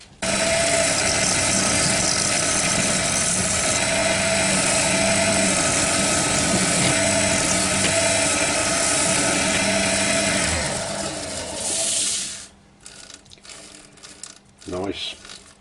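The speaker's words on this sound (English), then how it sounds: "so I'm going to go over this with a scraper" A sharpened scraper lightly shaping a small wooden witch's cauldron on a woodturning lathe, a steady loud whirring scrape over the motor hum that runs continuously and then cuts off as the lathe stops, leaving quieter handling sounds.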